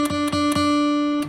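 Acoustic guitar note on the third fret of the second-to-last string, struck several times in an even rhythm, each ringing clearly and sustaining, close and alone.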